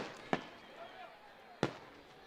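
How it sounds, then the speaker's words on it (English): Two sharp, distant booms from a fireworks display at a college football game in Surprise, spaced over a second apart, with crowd ambience and faint talk underneath. "An impressive fireworks display here in Surprise."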